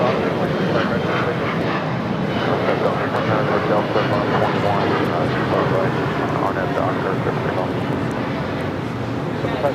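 A DHL cargo plane arriving at Los Angeles International Airport from Tokyo rumbles loudly and continuously, a broad steady engine roar filling the scene with no breaks.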